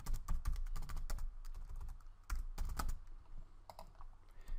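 Rapid typing on a computer keyboard while entering contact details, a steady run of close, crisp key clicks with brief pauses and a few heavier keystrokes.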